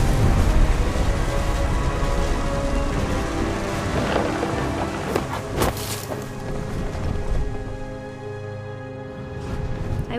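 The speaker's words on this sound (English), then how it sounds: "The thunder sounded much too close and full of angry power" A thunderstorm with heavy rain in the game What Remains of Edith Finch: constant loud downpour with several sharp, close thunder cracks around the middle, then the rolling rumble fading.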